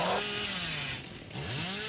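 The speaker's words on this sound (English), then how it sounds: "this killer is in overheat on their chainsaw" A killer's chainsaw revving in Dead by Daylight, a continuous buzzing whine with rising and falling pitch sweeps, loud and alone for about two seconds.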